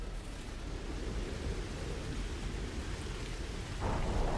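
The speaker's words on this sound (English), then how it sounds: "Storm's still going." A storm rages in the No Man's Sky game world, with steady dense rain hiss and a deep low rumble of thunder rolling underneath, growing slightly louder near the end.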